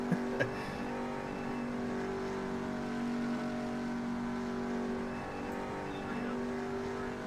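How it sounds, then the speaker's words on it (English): In a racing video game, a pace car idles along toward pit road with a steady, humming engine drone, holding mostly even with small rises and dips and a couple of faint clicks near the start. "Pace car about to make the turn down pit road."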